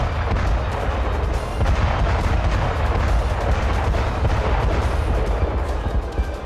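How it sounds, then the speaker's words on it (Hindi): Continuous heavy booming blasts and low rumble from shockwave bomb explosions striking Ukrainian brigade positions in war footage, dense and loud throughout with no clear gaps. "शॉकवेव बम से ज़ेलेंस्की ब्रिगेड के कई ठिकाने दहल उठे।"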